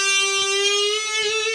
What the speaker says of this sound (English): And then I'm playing the 8th fret on the B string, and again with a bend and vibrato.